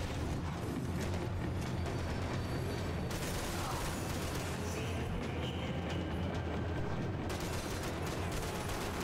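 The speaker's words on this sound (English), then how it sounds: "The trams were running again." A tram rumbles along steadily in the video game Max Payne 3, a continuous loud rolling rattle and mechanical clatter with no pauses, carrying on throughout.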